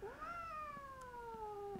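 A light orange female tabby, about three years old, lets out one long, clear meow, close by and drawn out with a falling pitch, alone with no talk.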